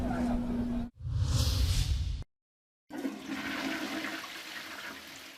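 A toilet flushes in a loud watery rush, cut off abruptly, then after a brief silence a second swirling, draining gush continues steadily to the end.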